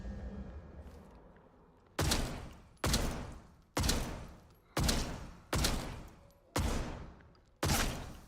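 Seven sharp, loud gunshots from the video game Atomfall, each blast decaying quickly, fired at roughly even intervals of just under a second after a short quiet lead-in.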